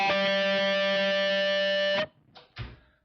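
Electric guitar natural harmonics at the fifth fret played through heavy distortion ring out as a loud, sustained chord-like tone for about two seconds, then cut off, followed by two brief fainter noisy bursts.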